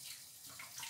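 Tap water runs steadily onto cheesecloth being soaked before tying Latvian Jāņi cheese, a close, even hiss and splash lasting under a second with no voices.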